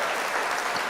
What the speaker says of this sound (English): Ladies and gentlemen, I gotta get a round of applause.